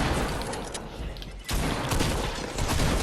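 TAC shotgun fire in the video game Fortnite, a loud, dense run of booming shots with a short break partway through, filling the clip with no talk.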